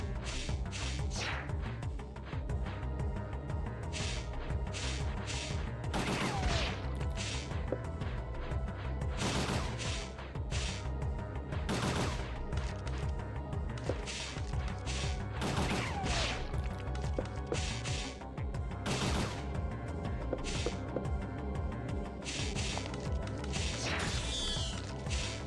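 Video game gunfire in Final Fantasy XI, with repeated sharp bursts of shots every few seconds throughout, layered over steady background game music and mechanical clatter.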